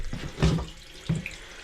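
A toilet tank refills with water after the supply is turned on following a flange rebuild, a close hissing rush of running water with two brief louder gurgling surges, no talk.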